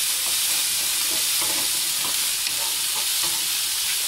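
Vegetables stir-fry in a hot pan for shepherd's pie, a steady bright sizzle with soft scraping stirs repeating through it, close and fairly quiet, with no talking.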